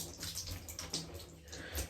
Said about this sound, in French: je vais les essorer